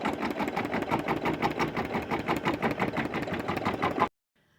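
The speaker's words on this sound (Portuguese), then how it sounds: "A máquina vai fazer a marcação para mim do primeiro tecido." An embroidery machine stitches a placement outline onto fabric held in a 13x18 hoop, a loud, fast, rhythmic mechanical chatter that runs steadily and then cuts off abruptly into silence.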